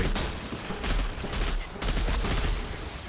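Gunfire aimed at the player in the video game Outriders comes as dense, rapid bursts of shots with heavy low thumps, loud and close, a few clustered volleys with brief gaps between them.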